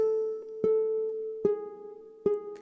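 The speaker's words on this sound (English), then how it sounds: "If I was just to play the G string, it would sound like this." Plucked notes on a ukulele's G string ring out one at a time, each struck about every second and sustaining into the next, clear and close.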